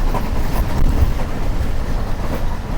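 Millat Express train rolling at speed, a steady loud broadband rumble of wheels on rails with dense low-end clatter throughout, no voices.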